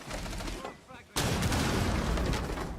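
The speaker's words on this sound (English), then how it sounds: "Ooh, nice clean grenade" A frag grenade goes off in Rainbow Six Siege, a sudden loud blast after a short quieter lull, followed by sustained crackling gunfire-like noise and game sounds.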